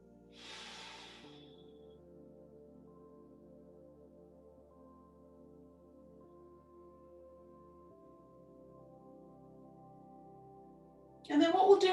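Slow, deep breathing during a calm yoga session: one soft breath near the start and a louder, fuller breath at the end over a quiet, steady drone.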